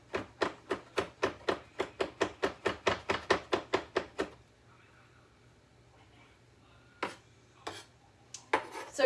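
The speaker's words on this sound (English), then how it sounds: "I'll just chop these up real fine" A knife chops food finely on a board in a rapid, even run of about twenty close, crisp strikes, then stops; after a quiet pause a few scattered knocks and clatters follow.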